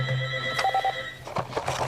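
A telephone rings in a radio studio with short repeated electronic bell bursts, heard faintly over a steady background hum and some brief noises.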